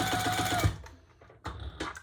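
A Sailrite sewing machine stitches leather for a Barbie tote bag in a quick rhythmic burst, stops briefly, then runs again in short bursts, close and moderately loud.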